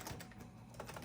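Typing on the keyboard of an Apple PowerBook 150 laptop, whose key switches differ from other 100 series PowerBooks; steady, close, soft clacking keystrokes throughout with a few louder presses near the end.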